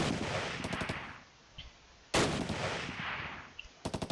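Gunfire in the Close Combat: Last Stand Arnhem wargame, two loud sustained blasts of shooting with short rapid bursts of automatic fire at the end of each, fairly close and dense.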